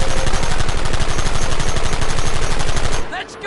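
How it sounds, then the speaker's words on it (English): Rapid automatic bursts from a Browning machine gun in the Red Dead Redemption video game, loud and continuous for about three seconds before cutting off into a quieter tail. "So I still have to take out 174 people with this Browning gun."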